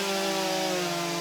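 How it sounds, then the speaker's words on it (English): A timbersports championship crosscut saw rasps steadily through timber in a continuous, even grinding drone, loud and close with no pauses. "These guys are synchronized sawing."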